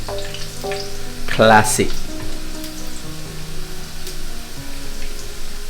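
Garlic and ginger sizzle in a hot pan for a Burmese noodle dish, a steady loud frying crackle with a brief clatter of stirring partway through and a short spoken word over it.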